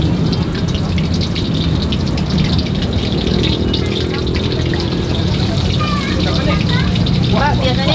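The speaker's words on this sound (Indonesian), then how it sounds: "Udah langsung digoreng." Battered street snacks deep-fry in oil at a roadside stall, a dense, steady sizzling hiss that stays loud throughout while people chat nearby and other street noise sits underneath.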